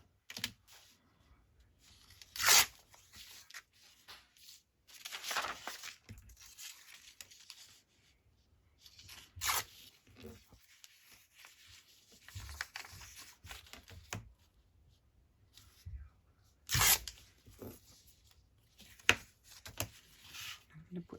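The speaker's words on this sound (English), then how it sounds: "tear this off." A book page being torn off by hand for side-tuck page pockets, several quick rips and crinkles scattered among handling noises and quiet gaps, close and moderately loud.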